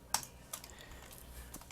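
A few quiet clicks of keys on a computer keyboard, sparse and close, with the sharpest tap near the start, over soft background hum.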